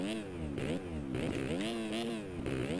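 Simulated motocross bike engine in MX Simulator revving hard through the gears on a custom track, a continuous loud buzzing whine that rises and falls in pitch with each shift, steady throughout.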